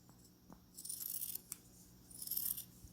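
Scissors trim the fabric seam allowance on a three-layer face mask, with two faint, close snipping passes of thin crisp cutting separated by a short pause in a quiet room.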